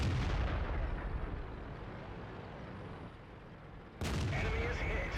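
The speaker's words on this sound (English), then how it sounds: "Finally, we connect a shot right into the side of that T-32." Tank cannon fired in World of Tanks, a loud booming blast that rolls off into a fading rumble, followed by a second sharp burst near the end.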